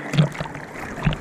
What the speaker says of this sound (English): Just paddling out a little bit, getting wet